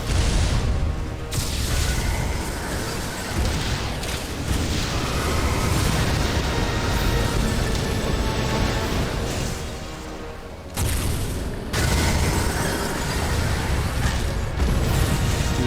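A Seeker missile explosion in the video game Metroid Other M, loud booming blasts and rumbling bursts layered over dense game sound, with a brief dip before the roar returns.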